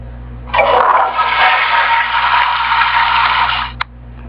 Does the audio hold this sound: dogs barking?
no